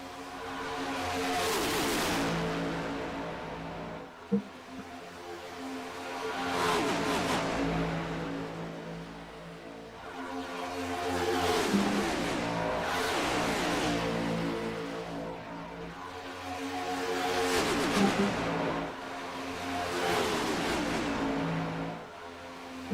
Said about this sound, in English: Let those engines roar.